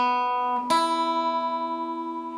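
A single plucked electric guitar note, an E on the 2nd string 5th fret from a riff, picked alone and ringing out clearly with a slow decay after a brief preceding note.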